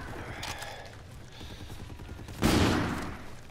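FHR weapon fired in a video game: a rapid rattle of shots followed by a louder sharp burst near the end, close and punchy.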